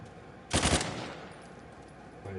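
A single short, loud burst of rapid gunshots in the video game Uncharted, followed by quiet background hum.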